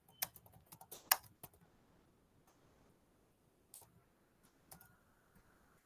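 Computer keyboard keys tapped in a quick cluster of clicks, then a few sparse, isolated keystrokes, close and fairly quiet with no voices.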